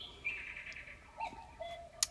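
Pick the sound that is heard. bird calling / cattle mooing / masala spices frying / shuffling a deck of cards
bird calling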